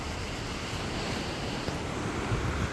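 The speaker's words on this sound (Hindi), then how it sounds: "ये है अपना धुआंधार घाट, और देखिए पानी के फ्लो में जा रहा है आगे की ओर" Water rushing at Dhuandhar waterfall in Bhedaghat, a steady broadband roar mixed with wind buffeting the microphone, constant and unbroken throughout.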